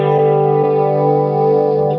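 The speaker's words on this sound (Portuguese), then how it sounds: "Liguei o chorus, né? Esse é um chorus mono" Held guitar chord through an amp modeler with a mono chorus effect, its steady tone gently shimmering and wavering, loud and continuous with no talking.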